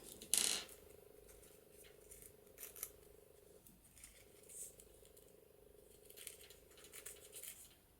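Scissors snip through craft material for a handmade journal dangle with pearls, a few sharp close cuts near the start, then steady low background hum with light handling clicks.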